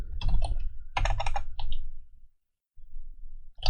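Bursts of fast typing on a computer keyboard while writing Django code, clustered keystrokes in three close, loud runs, then a brief pause and softer tapping, with no talk.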